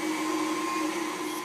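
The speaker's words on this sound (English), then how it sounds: "I raised the speed up on the mixer to medium" Electric stand mixer running at medium speed while whipping cream into butter, making a steady, close, uniform motor whir with a constant tonal hum and no talk.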